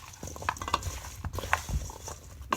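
A spoon scrapes and stirs seasoning around a cast iron pan in irregular clinks and scrapes over a soft sizzle, fairly quiet and close.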